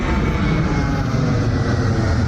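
An airplane flying overhead near the Dwarka Expressway flyover construction site between Dwarka and Gurgaon, a steady, loud, broad engine roar that fills the whole moment without a break.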